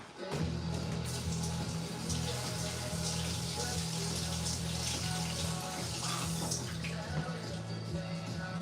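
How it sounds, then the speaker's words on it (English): A kitchen tap runs steadily, its water splashing as raw chicken is rinsed under it. The flow is close and fairly loud, continuing without a break. "I'm going to go ahead and rinse this"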